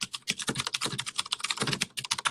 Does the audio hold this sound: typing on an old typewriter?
yes